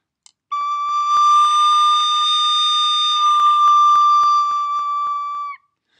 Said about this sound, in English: If you play D too hard, it'll come out as an E flat.